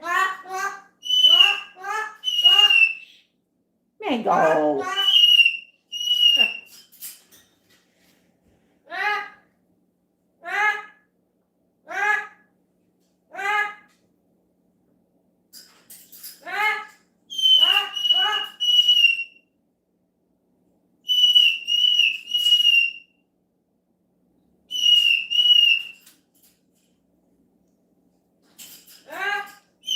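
A pet parrot named Tico, heard alongside a Moluccan cockatoo, lets out repeated loud whistles and squawking calls in bursts through the scene, near and piercing, with a voice talking briefly between them.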